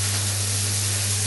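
Steak frying in a hot pan gives a steady, loud, broadband sizzle with no breaks, and a low hum sits underneath it.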